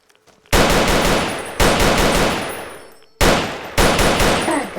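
Bullpup light machine gun firing in the game Fallout New Vegas: three loud sustained automatic bursts, each a rapid rattle of shots that tails off, separated by brief pauses, with no talking.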